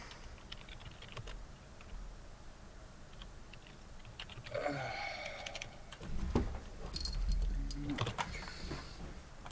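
Fast, furious typing on a computer keyboard, a dense run of key clicks that starts fairly quiet and grows busier and louder toward the end, with some other indoor movement mixed in.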